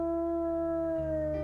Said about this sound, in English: Was that even the right howl?